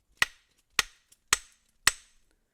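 Four sharp, evenly spaced metallic taps on a flat metal surface being tested for drilling an expansion-bolt anchor, each a clean close strike with a brief ringing decay, no talking.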